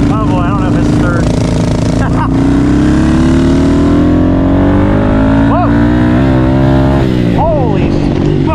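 A Honda CRF110 pit bike fitted with a 147cc big bore kit revs hard and climbs through the gears, its loud, close engine note rising and dropping with each shift while voices speak over it.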